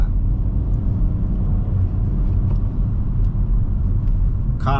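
A learner's car accelerating on a driving lesson near larger roundabouts, a steady, loud engine drone and road rumble that holds without pause across the clip, with no one talking.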